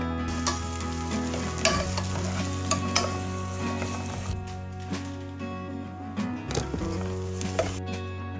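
An onion, tomato and green chilli masala fries in hot oil for a home biriyani, keeping up a steady close sizzle as a utensil stirs with repeated clinks against the pan.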